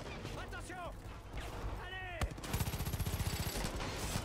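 Gunfire in Far Cry 5, a rapid close burst of automatic shots in the last two seconds. It follows a stretch of game ambience and chatter, and voices sound faintly around the shooting.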